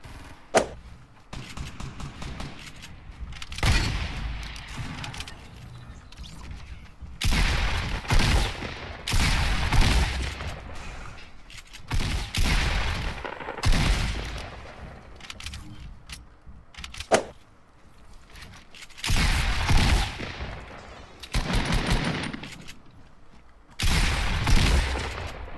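Repeated bursts of gunfire in the video game Fortnite, loud rapid volleys and single shots spread across the stretch with brief pauses between exchanges.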